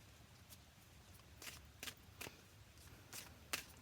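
Romance angel oracle cards being shuffled, a series of soft, crisp riffles and taps spaced irregularly over a low steady room hum, fairly faint and close, with no talk.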